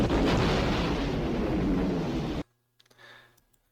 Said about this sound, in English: I'm going to destroy this power wheel.